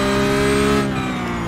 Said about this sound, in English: Wow, lock up there. So my wheels are locking up a lot more now.